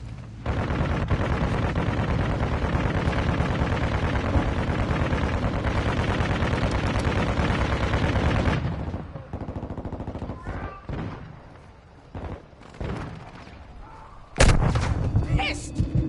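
Dense, loud gunfire and explosions in the video game Modern Warfare 2, a sustained roar of automatic fire for several seconds, then sparser distant shots and clatter, ending with a sudden loud burst.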